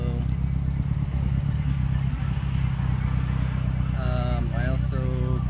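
A 1951 MG TD engine idles steadily and close after its carburetors were synchronized and the idle lowered, a constant low rumble with light clatter throughout, and a voice briefly heard toward the end.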